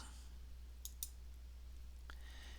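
Two crisp, quiet computer mouse clicks in quick succession during accounting software work, followed by a softer third click, over a steady low electrical hum.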